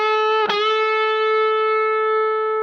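Electric guitar string at the 9th fret picked once and bent up a half step, the sustained note ringing clearly on its own with a slight pitch lift and steady decay.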